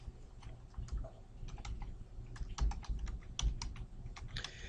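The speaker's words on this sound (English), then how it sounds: "And now this is where typing and spelling matters." Linux command entered on a computer keyboard: a fast, irregular run of crisp key clicks with a few heavier thumps, close and fairly quiet, no voices.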